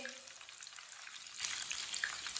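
Potato chip sticks fry in hot oil in an open pan, a soft quiet crackle that grows into busier sizzling with small pops, no talking over it.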